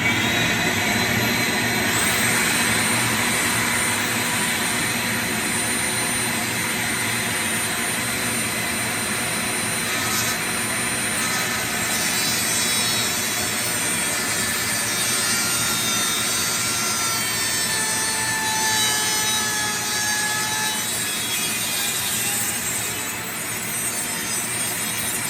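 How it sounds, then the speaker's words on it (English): Two Dremel rotary tools run at once, cutting during a power entry module installation on a WRL Globe Champ, a steady loud high-pitched whine and grinding hum that holds for the whole stretch with no talking. "Got the Dremel tool. We're going to be double fisting this mamma jamma. So it's going to get noisy."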